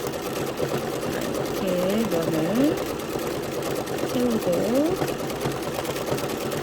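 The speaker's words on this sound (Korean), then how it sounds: "나도 움직이고 재봉틀도 지그재그로 움직이고" A sewing machine runs continuously in a zigzag stitch for wool thread painting, filling an area with a steady whirring drone while a person talks over it.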